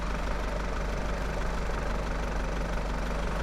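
The number 3 piston engine of a Lockheed L1049 Super Constellation turning over on its starter in a flight simulator, a dense steady rumbling roar close and loud.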